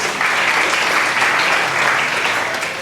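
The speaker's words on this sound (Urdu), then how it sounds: "اس بہن کے لیے دوسری طریقے سے تالیاں ہونی چاہیے" Steady, dense audience applause at an inter-school speech competition in Karachi, clapping loud and continuous for a student speaker, with no speech over it.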